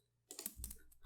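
Computer keyboard keys pressed in quick bursts for Excel copy-and-paste shortcuts, a cluster of close, crisp clicks and clacks after a moment of quiet, with no voices.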